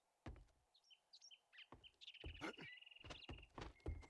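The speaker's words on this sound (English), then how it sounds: "I forgot there was a bird here." Several sharp bird chirps and tweets in the video game 7 Days to Die, mixed with a few dull thumps and knocks, fairly close and with no talking.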